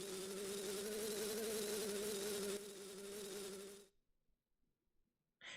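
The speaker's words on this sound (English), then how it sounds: "Watch out for the bees." Insect-like buzzing of bees in the video game Zelda: Majora's Mask, a loud steady drone with a wavering hum that cuts off abruptly after about four seconds, leaving near silence.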